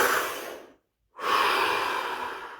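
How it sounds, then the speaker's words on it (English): A single deep breath drawn during a guided core exercise session: a long, close, breathy rush of air, then a brief full silence, then a steady exhale that trails off slowly. "Take a deep breath."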